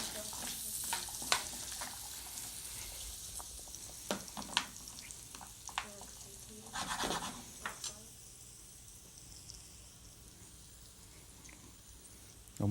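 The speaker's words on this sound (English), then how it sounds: "You only fry these just for a little while. We'll do the carrots up first." Carrots fry in a pan with a steady soft sizzle, broken by several sharp scrapes and stirs of a utensil, with no talking over the cooking.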